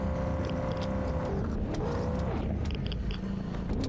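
A car driving in the zombie survival video game Zed Zone, a continuous loud engine drone with shifting pitch as the vehicle pulls forward and closer, with a few faint clicks over the top.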